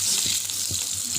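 Duck eggs and potato pieces frying in hot oil, giving a steady, loud sizzle with a few soft stirring bumps and no voices.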